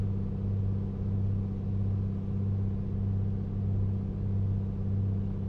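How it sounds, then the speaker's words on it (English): De Havilland Beaver aircraft engine in a flight simulator game, a steady droning piston engine hum with a deep throbbing tone, continuous and even, heard alone without speech. "Oh man, the Beaver's great, and the sounds are just absurdly good"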